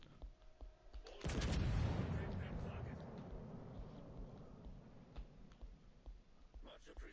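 Battleship guns firing in World of Warships: Legends, a sudden heavy boom that rolls out into a long rumbling decay, with faint clicks and a quiet voice around it.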